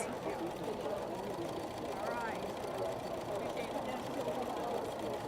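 Sewing machine stitching fabric in free-motion thread drawing, a steady continuous mechanical whir running throughout at a moderate level with a few faint higher squeaks on top.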